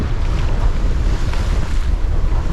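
Gusting wind roars steadily across a sailboat at sea, near and loud, with low buffeting rumble on the microphone and a broad hiss of wind and water, no voices.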